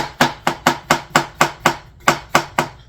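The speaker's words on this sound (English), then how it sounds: "got my mushrooms here. Just give them a quick slice" A kitchen knife slicing through mushrooms on a cutting board, ten crisp, evenly spaced chops close by and loud, with a short pause before the last three.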